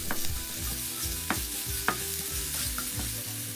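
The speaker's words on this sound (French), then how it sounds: "on ajoute la dernière gousse d'ail hachée et on fait revenir l'ail" Minced garlic frying in hot oil in a pan: a steady close sizzle runs throughout, with a few soft scrapes and taps as the garlic is stirred.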